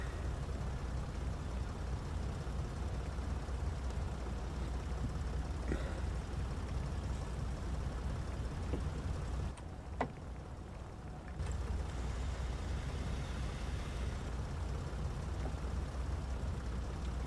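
A car driven around in circles in the video game Factorio: a steady, loud synthetic engine drone that runs continuously, dipping briefly to near quiet for a second or so before resuming at the same level.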